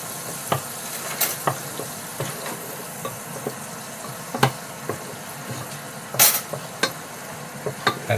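Garlic and mustard go into melted butter in a pan, giving scattered spoon stirs and clinks over a soft sizzle, with one louder scrape near the end.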